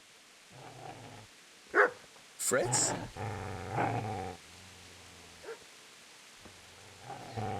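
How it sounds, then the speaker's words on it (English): Dog growling and barking in the medieval game Kingdom Come: Deliverance, short snarling bursts and a couple of sharp barks up close, with someone talking over and between them. "It's a cute dog, it's fine."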